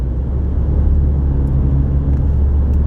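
A car cruises along highway M-88 in northern Michigan toward Mancelona, a steady close in-cabin engine and road rumble holding constant throughout, with no talk.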